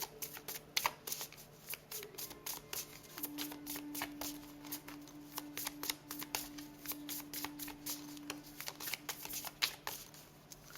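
A deck of tarot cards shuffled by hand in a quiet room, with a steady run of quick riffling flicks and soft taps over a faint steady hum, no talking.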